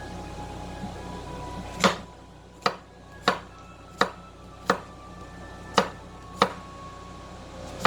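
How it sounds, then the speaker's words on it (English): Knife strokes slice vegetables on a cutting board, seven sharp separate chops spaced about a second apart, close and crisp over quiet room tone with no talk. "I'm just going to cut this into slices"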